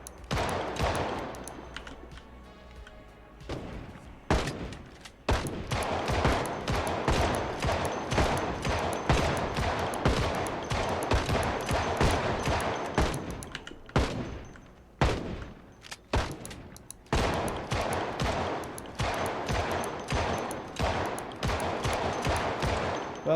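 Rapid repeated gunfire against zombies in Project Zomboid, mostly dense bursts with brief pauses, loud and close throughout with game sounds underneath.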